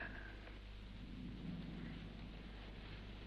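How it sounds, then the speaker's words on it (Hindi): Rain and a low thunder rumble on a stormy night. The sound is a steady wash of rainfall with a soft swell of rolling thunder near the middle, fairly faint and continuous, with no voices. "ये बादल यूं ही गरजते रहें, ये बिजलियां यूं ही चमकती रहें"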